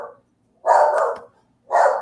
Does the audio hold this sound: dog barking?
yes